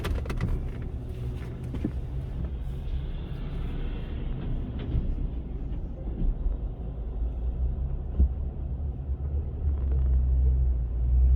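Steady low road rumble from inside a moving car, continuous and even throughout, swelling slightly louder toward the end, with no talking.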